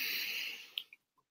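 A full inhale during a tension-release relaxation exercise: a steady, airy breath drawn in for under a second, close and soft, trailing into quiet with a few faint clicks.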